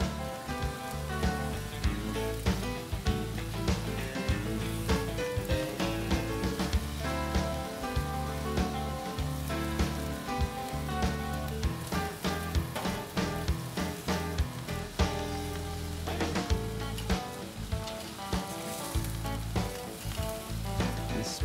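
Meat and asparagus sizzle on a barbecue grill with a continuous, fairly loud crackle and spit that keeps going steadily throughout, with a tonal background hum underneath.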